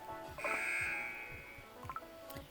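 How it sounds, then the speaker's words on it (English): A game timer buzzer sounds to end the selection round, a steady electronic tone held for over a second amid faint background game noise and clicks. "And there goes the timer!"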